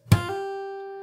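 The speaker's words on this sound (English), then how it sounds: "So there you play the open high E string with the slap" A single percussive slap of an index fingernail on a guitar's open high E string gives a sharp attack, then the note rings clearly and slowly decays, close up and alone.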